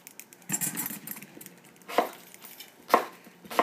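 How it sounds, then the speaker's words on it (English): A knife cuts pieces of pear into a bowl: a few sharp, separate chopping thuds at irregular intervals, close and fairly loud, with no talking. "I'm just going to cut off these pieces and put them in a bowl"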